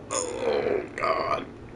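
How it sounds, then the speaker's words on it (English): A single burp from a person, two short throaty bursts in close succession, near and fairly loud, with no talking over it. "Sorry for burping."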